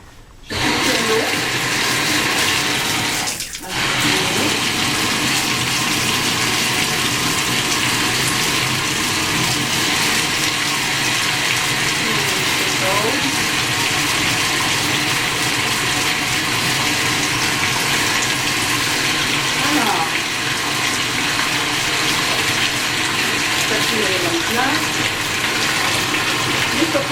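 Water from a bathtub tap runs in a loud, steady rush for nearly half a minute, with a brief dip early on and faint voices now and then under the flow.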